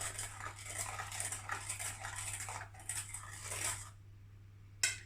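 Crème brûlée custard stirred while eggs are tempered, with a utensil scraping and clinking against a bowl in quick, steady strokes that stop, followed by one last sharp clink.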